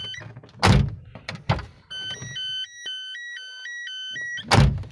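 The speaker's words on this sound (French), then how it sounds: "on va essayer avec la porte passager" Passenger door of a Renault Clio 1 opening with the lights left on, door thunks and clunks framing a steady, evenly pulsing electronic warning chime that sounds close and clear, then a final thud.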